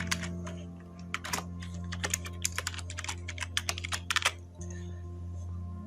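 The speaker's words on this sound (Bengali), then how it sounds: "সেক্ষেত্রে আমি আমার মেল অ্যাড্রেসটা লিখছি" An email address is typed on a computer keyboard in a rapid run of crisp, close keystrokes with uneven rhythm over a steady low electrical hum, ending in a pause.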